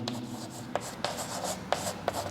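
Pen strokes on paper while a maths answer is written out, a few brief scratchy marks spaced apart in a quiet room.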